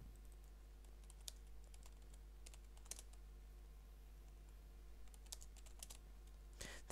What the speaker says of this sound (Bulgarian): Така много бързо трябва тук да тракам клавиатури